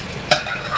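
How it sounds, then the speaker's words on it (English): A spoon stirs a mixture seasoned with salt and pepper, a short scrape against the bowl over a faint sizzling hiss, close and brief. "let's stir that together"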